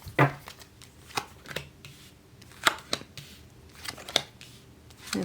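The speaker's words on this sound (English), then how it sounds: "let's pull some quick cards for Gemini complicated" A deck of tarot cards is shuffled and cards are pulled, giving crisp riffling flutters and sharp snapping card slaps close by, in irregular bursts with no talking.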